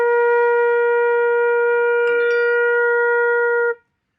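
A flute holds a single steady B flat, clear and sustained for several seconds before stopping cleanly, with a faint click partway through.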